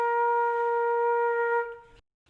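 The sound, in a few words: flute playing B flat note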